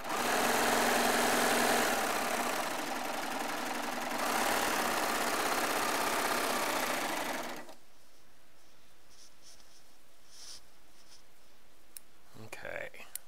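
Baby Lock serger stitching through quilting fabric, a loud steady motorized whir that runs for several seconds, dips briefly, then stops abruptly, leaving quiet handling noises and faint clicks.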